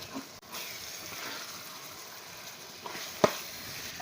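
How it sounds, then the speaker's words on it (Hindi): Tomatoes and whole chilies fry in a pan for a beef keema daal gravy, giving a steady low sizzle with a few faint stirring clicks and one sharp clack near the end, no talking. "ये भी हम इसके साथ ही डाल देंगे और अच्छे तरीके से इसको फ्राई करेंगे टमाटर सॉफ्ट होने तक"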